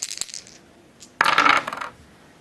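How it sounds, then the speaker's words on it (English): Two dice rolled for the board game Chainsaw Warrior, a couple of faint taps followed by a short clattering rattle as they tumble and settle on a hard surface. "roll 2 dice and then add 6 to the result"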